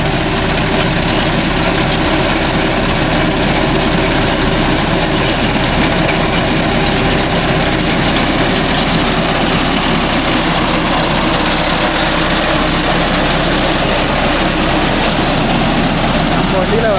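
Steady, loud drone of a John Deere 5105 tractor engine running a reaper, continuous and unbroken throughout.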